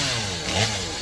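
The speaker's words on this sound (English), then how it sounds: "his brother-in-law cut down a dead tree next to his house with a chainsaw" A chainsaw cutting down a dead tree beside a house in Arkansas gives a short, close buzzing engine whine that rises briefly in the middle before settling back.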